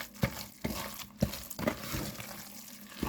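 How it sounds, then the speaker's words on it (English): Shredded cabbage being stirred into a batter for vegan cabbage cakes: close, wet squelching strokes and soft slaps repeating about every half second, with no voice over them. "we're just going to mix that cabbage right on into that batter"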